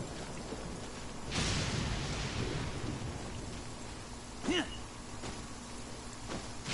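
Lightning strikes and thunder rumble in the video game Genshin Impact amid steady rain, with a sharp crack early, a second strike later and a rolling tail, no speech.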